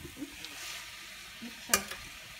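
Soft scraping and light clinks of a utensil stirring shrimp and spinach curry in a pan, faint and sparse over a low sizzle, with one sharper metallic scrape near the end.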